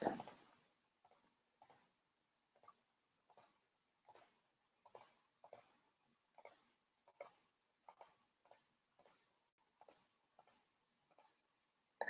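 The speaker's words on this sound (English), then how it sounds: "So I'm doing a lot of clicking because remember, these are only straight lines" Mouse button clicks in Google Drawings while straight-line segments are placed for a vector portrait: about twenty sharp, close clicks at a steady, unhurried pace, each one alone against near silence.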